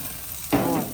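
Pompano fish sizzles on a grill with a steady hiss that swells suddenly partway through, close by, with no talking.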